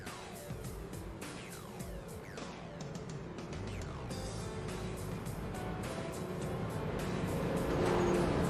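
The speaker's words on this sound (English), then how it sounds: "As pace car is going to go around one more time, and then we are going to be green flag racing" A pace car and street stock race cars lap Martinsville track, a steady layered roar of engines with repeated cars sweeping past and rising slightly in loudness toward the end, heard from a distance with no talk.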